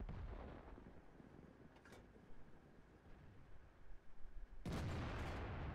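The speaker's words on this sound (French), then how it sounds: "Et le feu sur le centurion." Tank cannon fire in World of Tanks, a faint, distant battle din with a few muffled booms, ending in one sharp, louder blast near the end of the clip.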